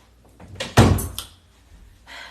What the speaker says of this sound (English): let me close my door